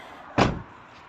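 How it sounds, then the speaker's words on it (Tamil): A single heavy knock on a room door: one short, loud thump that stands alone against a quiet background, with no voices. "லைட் எரியுது, அதுக்காண்டியே போய் கதவை தட்டலாம்."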